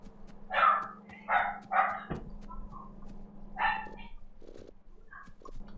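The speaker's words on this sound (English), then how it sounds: "Got a dog barking at nothing" A dog barks in a quick run of three barks, then a fourth after a pause, followed by fainter yips, over a steady low electrical hum with no voices.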